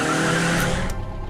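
Steady, close engine and road drone of a car cruising along at low speed, with a faint tonal hum and mild tire noise, constant and without talk.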